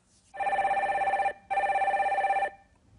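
Telephone ringing for a viewer call-in on a Korean IPO market broadcast: two clear electronic rings, each about a second long with a rapid warble, separated by a short pause, close and alone without speech.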